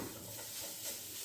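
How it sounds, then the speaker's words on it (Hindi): Shredded chicken is stirred in a pot of simmering chicken soup, a soft, steady scraping and sizzling hiss with faint bubbling, quiet and close, no talk. "इसको मैं अच्छी तरह से मिक्स करूँगी ताकि हमारा चिकन भी कच्चा ना रहे इसमें।"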